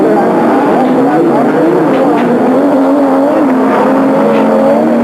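Rallycross cars, including an Audi Quattro and a Lancia, race around the Croft circuit, their engines droning and shifting pitch continuously beneath steady commentary.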